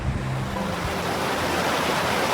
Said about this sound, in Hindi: अभी यहाँ पे खड़े होकर इतनी खूबसूरत हवा चल रही है ना